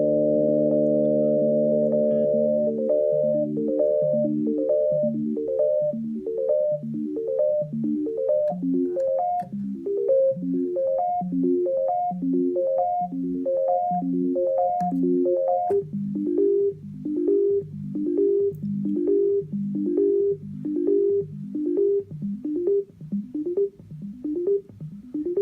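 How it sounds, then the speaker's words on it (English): A custom harmonic oscillator unit on an ER-301 sound computer module steps sequentially through eight oscillators, giving a steady, loud run of rapid pitched arpeggio tones whose harmonic stacks shift and sweep as the cycle repeats, with no voices. "I actually have it set so this master clock thing is actually cycling between all 8 of those oscillators sequentially"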